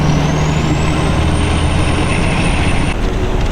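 Peterbilt 379 semi truck on a test drive: a loud, steady diesel engine drone and road rumble from inside the cab, with a rising turbo whistle and a brief hiss near the end.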